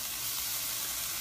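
Tofu fries in a pan with a continuous bright sizzle, a steady close hiss with no pauses.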